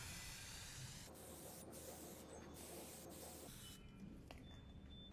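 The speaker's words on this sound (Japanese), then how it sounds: "ぼかし剤が乾く前にカラーペイントをスプレーします" Color paint hisses from a spray can in a steady continuous jet, close and even, with a brief break and lighter spray toward the end.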